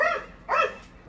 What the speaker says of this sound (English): It's a neighbor with 2 dogs.